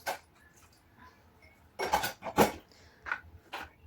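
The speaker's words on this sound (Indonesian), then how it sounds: "sekarang lanjut cuci piring" Dishes being washed by hand in a home kitchen: scattered clinks and clatters of plates and cutlery, a few louder knocks of crockery in quick bursts, with no talking.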